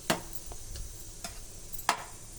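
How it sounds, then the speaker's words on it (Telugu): Payasam of rice, milk and jaggery cooks in a pot while being stirred, giving a faint, low simmer punctuated by a few sharp clicks of the spoon against the vessel. "తొలి ఏకాదశికి పాయసం వండుతున్నాను"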